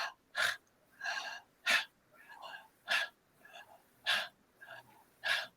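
A person takes a slow series of deep conscious breaths, each belly-filling inhale followed by a soft released exhale, repeating in a steady, evenly spaced rhythm close to the mic.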